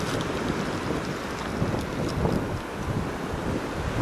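Wind of a winter snowstorm at a Canadian campsite, a dense continuous roar buffeting the microphone with gusty surges and no pauses, fairly loud and unbroken by talk.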